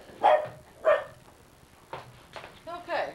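A dog reacting to something seen out a window gives several short, sharp barks spaced irregularly, fairly close, with a person's voice partly mixed in among them.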